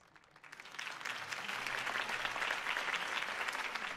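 Crowd applause in Batman: The Telltale Series swells up from quiet into sustained, dense clapping that holds steady to the end, with no talking over it.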